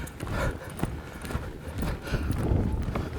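A ridden horse's hooves clip-clop steadily over the ground while working a cow, a continuous close rhythm of dull thuds with some rustling; no clear talk.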